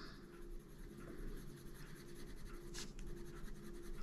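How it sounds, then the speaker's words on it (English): Colored pencil scratching steadily across paper while coloring and blending the larger leaves of an owl illustration in an adult coloring book, a continuous close, soft scraping texture with no talk. "color the rest of the leaf and sort of blend them together"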